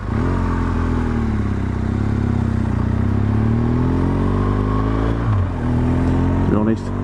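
A BMW R1200GSA motorcycle rides into an aerodrome on a damp day, its engine droning steadily and loudly up close, with a shift in pitch near the end and a voice talking over it.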